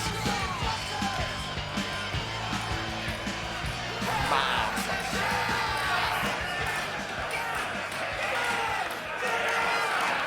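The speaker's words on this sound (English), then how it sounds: "you hear all them get-ems?" A crowd yelling "get 'em" at a street fight, with overlapping shouts, whoops and cheers from many voices that run continuously and sound close and chaotic, with some loud speech among them.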